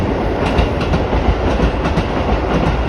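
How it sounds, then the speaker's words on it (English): A train passes in Japan, its loud, steady rumble carrying a rapid clickety-clack of wheels over rail joints, close by and without speech. "the train is now behind me"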